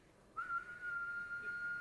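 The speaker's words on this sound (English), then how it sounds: "Just do a whistle" A person whistles one steady sustained note, starting a short way in and holding evenly to the end, fairly close and clear over a faint room hiss, with no talking.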